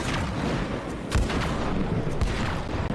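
Repeated gunshots in the video game Split Fiction crack out in a few scattered bursts, moderately loud against a busy background with no voices.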